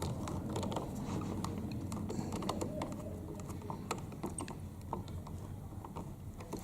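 A screw is being driven to fix an electrical outlet into a wall box, producing rapid small ratcheting clicks and scraping metal ticks over a dense, close rumbling background.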